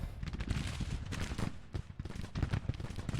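Dense, continuous crackle of musket volleys and artillery fire on an American Civil War battlefield in the strategy game Grand Tactician: Civil War, loud overlapping shots with no pause.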